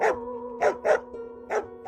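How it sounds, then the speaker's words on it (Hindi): Several dogs bark in a story sound effect, chasing a woman along a road at night: four loud, close barks in an irregular rhythm over a steady low hum, with no talking. "उसके पीछे कई कुत्ते भौंकते हुए भाग रहे थे"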